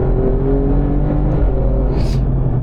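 Alfa Romeo Giulia QV engine and exhaust droning steadily from inside the moving car, a loud continuous low rumble with a brief whirring swell near the end, no talk.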